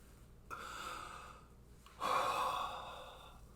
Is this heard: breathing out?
yes